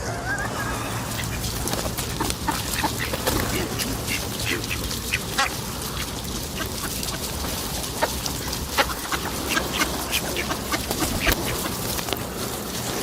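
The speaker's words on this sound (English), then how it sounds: "Oh, there's more quackers coming." A group of ducks quacks on the foreshore of the River Thames. Repeated nasal quacks come from several birds over steady outdoor background noise, fairly close, with occasional faint talk.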